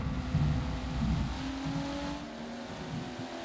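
Race car taking a corner at Watkins Glen in a racing video game, a faint, steady engine drone with a shifting pitch as the car carries speed through the turn.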